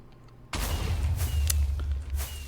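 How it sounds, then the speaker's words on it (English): Minecraft TNT goes off among stacks of iron in a modded Infitech 2 game, giving a sudden loud, rumbling blast that keeps booming and crackling for about two seconds. "light our TNT. And we're just going to blow that iron up."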